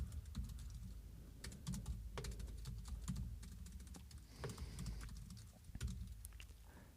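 Rapid typing on a computer keyboard, a steady run of close, crisp key clicks with occasional heavier strokes, continuing throughout with no talking.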